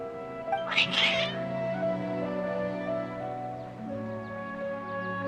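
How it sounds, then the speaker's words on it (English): Agitated cats meowing in the video game Genshin Impact, a sharp yowl early on followed by sustained tonal music-like layers, with a character speaking. "Your cats seem pretty worked up."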